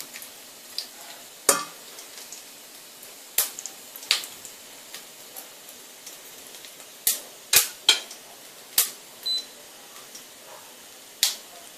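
Scattered sharp pops and crackles from food sautéing in a pan for an Indian tamarind sauce (pulli kuzhambu), irregular and fairly close, over a quiet, faint sizzle with no talk.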